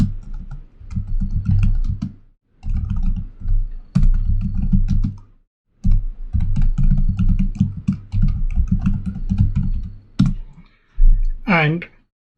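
Computer keyboard typing while entering a git config username, with bursts of rapid clicking keystrokes interleaved with someone speaking over them throughout.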